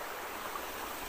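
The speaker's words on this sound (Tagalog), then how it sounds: "At dito sila naglalaba sa kanilang sapa" A village stream where people do their laundry flows in a steady, even rush of water, moderately quiet and continuous, with no voices or other sounds over it.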